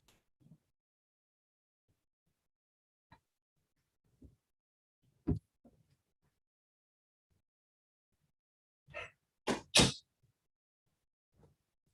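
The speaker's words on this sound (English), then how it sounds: "I have to close the door" A room door is closed to keep out a cleaning robot, giving a few sparse soft knocks and shuffles, then a sharp cluster of two or three loud thuds as it shuts, followed by quiet.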